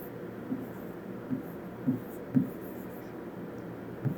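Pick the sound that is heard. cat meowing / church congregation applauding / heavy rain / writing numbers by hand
writing numbers by hand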